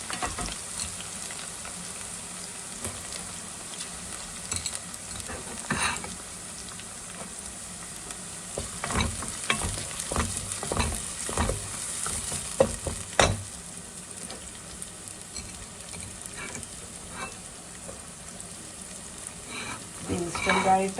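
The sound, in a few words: frying ginger and garlic for Kerala lemon pickle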